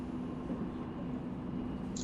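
A train ride in the video game Go Go Nippon, a steady low rumble of rolling carriages with a faint hum, continuous and moderately quiet, no voices over it.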